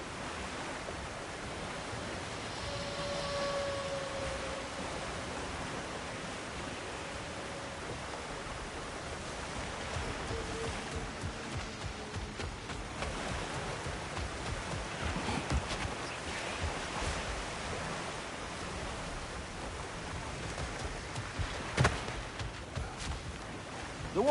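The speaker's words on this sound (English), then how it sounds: "The water rushing above us" Rushing water in God of War Ragnarok, a steady broadband wash of flowing water overhead, constant and moderately loud, with faint scattered clatter and no speech.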